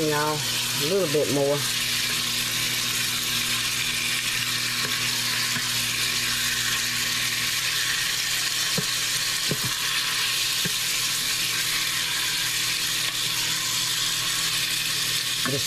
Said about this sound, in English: Just searing it a little bit, searing the flavors, as people say.